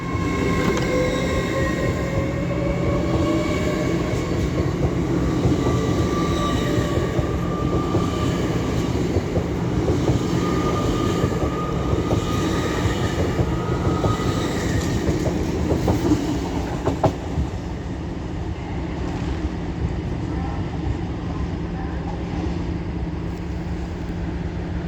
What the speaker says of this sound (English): And now departing is 801-211 with the 1511 Northern LNER service to Edinburgh Waverley.